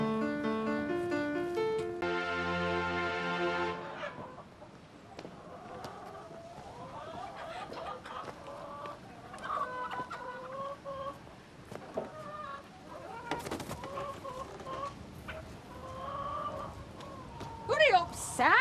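Hen clucking in short repeated bursts through the middle and end of the clip, moderately close, following a brief musical sting and mixed with faint background noise.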